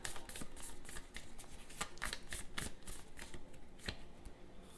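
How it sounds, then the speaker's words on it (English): Tarot cards are shuffled and drawn from a deck in a rapid, crisp run of soft riffling flicks and slaps, close and fairly quiet, with no talking. "let's take another deck. Let's pull 3 more cards."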